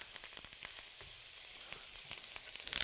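Butter melts in a hot pan with steak, putting out a soft, steady sizzle with scattered small pops and crackles. The sound is faint and continuous, with no talking.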